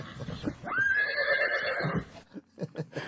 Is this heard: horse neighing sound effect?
yes